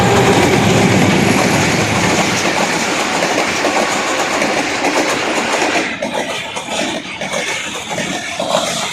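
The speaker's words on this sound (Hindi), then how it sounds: "कौन सी ट्रेन आ रही है? हाँ जी माशा, रहमान बाबा आ रही है जी।" The Rehman Baba train roars through Sangjani railway station, a loud close rumble of rolling carriages and wheel clatter that eases off as it passes.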